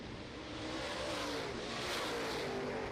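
Late model race cars roar down the back straightaway at Ogilvie Raceway, a continuous engine drone heard from a distance that swells slightly as the pack passes, with no talk over it.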